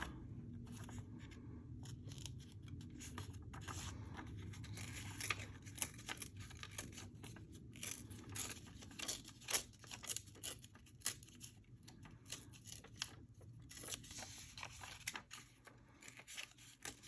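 Paper being ripped by hand while making craft pockets: a run of dry tearing and crinkling bursts, close and fairly quiet, growing busier and more irregular toward the end, with no talking.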